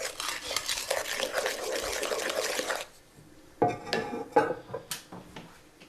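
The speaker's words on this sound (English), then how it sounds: "Mix in the chocolate thoroughly so all the ingredients are completely blended." Chocolate being mixed into brownie batter in a bowl: steady scraping and stirring strokes for a few seconds, then a pause followed by a handful of separate soft clinks and knocks of the utensil against the bowl.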